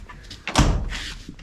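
A car door on a 1968 Plymouth Satellite B-body swings shut with a single solid thump, close and fairly loud, followed by a brief rattle fading out.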